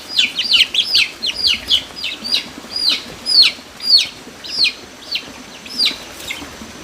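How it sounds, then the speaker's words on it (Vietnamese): Young chickens cheep and chirp in a lively, repeated series of high calls, close and fairly loud, with no voices over them. "Mấy con gà con này nó bay nhanh quá em ạ"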